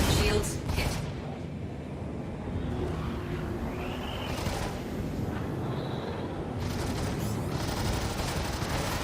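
Ship weapons fire in sustained, rumbling volleys during a space combat engagement in Star Citizen, dense and loud throughout with mechanical whines layered over the barrage.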